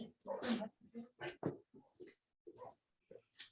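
Dogs respond to a knock at the door with a string of short, sharp barks and yelps, irregularly spaced and fairly faint, with quiet gaps between them.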